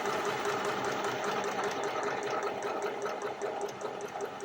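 An Elna Star lightweight computerized sewing machine with a top drop-in bobbin stitches steadily through fabric, giving a continuous close, even mechanical whir with a fast rhythmic ticking that stays at one level throughout.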